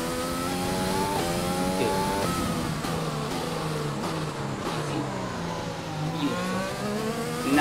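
Race car engine in a racing video game, France race day, revving up and down through repeated gear shifts with rising and falling pitch, loud and continuous, with a brief spoken word from a player.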